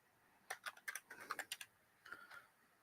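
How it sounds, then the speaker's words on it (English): Quiet computer keyboard typing: two brief bursts of light, rapid keystroke clicks, close and soft, with a pause between while entering wallet details. "I had to type everything in."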